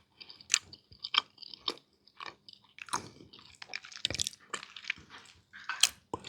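Moist sweet potato cornbread is chewed up close, a run of soft, irregular crunchy bites and squishy mouth sounds in near silence.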